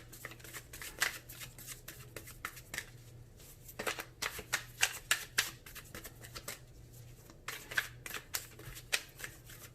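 A deck of tarot cards is shuffled by hand in quick riffling bursts with brief pauses, close and crisp, with no talk.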